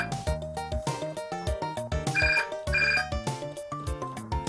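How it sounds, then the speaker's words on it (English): A telephone ringing in the video game Theme Hospital, a loud electronic melodic ringtone with repeated rhythmic tone bursts over about four seconds, no speech. "What we need is the phone to ring."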